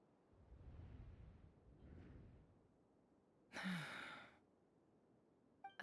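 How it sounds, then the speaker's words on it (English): A Genshin Impact character gives a sudden sharp gasp, a brief breathy burst that stands out after quieter low murmuring in the game scene. "I heard Yehuda gasp,"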